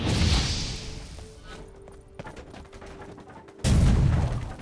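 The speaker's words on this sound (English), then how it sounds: "So now I'm just exploding these barrels so I have fewer things to cloud my vision" Barrels explode in The Witcher 3, with a heavy blast at the start, a quieter stretch of faint clatter, then a second loud burst near the end.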